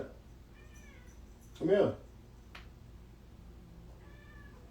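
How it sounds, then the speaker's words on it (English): A pet cat meows for attention indoors, a few short mewing calls spread through the moment, with one louder, closer cry in the middle while a person speaks briefly nearby. "Sorry, my cat was begging for attention."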